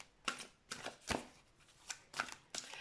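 Large tarot cards are shuffled in short, crisp riffling bursts, about six quiet flurries spaced irregularly, close up with no talking.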